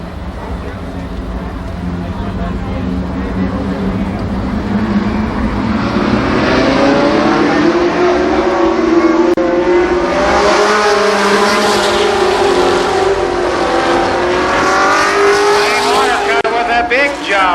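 Late model race cars roar around a speedway oval during a ten-lap heat race, engines loud and sustained with rising and falling pitch as the pack passes, under a public-address announcer talking.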